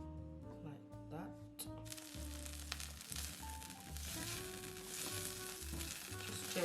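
Salmon, fonio and asparagus toss and sizzle in a frying pan at home, a constant close crackling hiss with intermittent stirring clatter while a person speaks over it.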